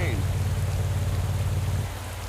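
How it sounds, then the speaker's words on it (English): Pouring rain in the Pro Cycling Manager 2024 cycling race game forms a dense, constant hiss over a steady low rumble, unbroken and fairly loud throughout. "Today's race will be run under pouring rain."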